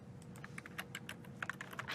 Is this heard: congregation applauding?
no